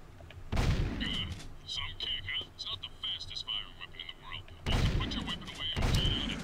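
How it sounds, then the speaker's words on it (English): Two heavy scattergun blasts from Jak II ring out, each a sharp, loud boom followed by a rumbling decay, separated by a stretch of quieter in-game ambience with high, chirping tones. "Scattergun's a shotgun."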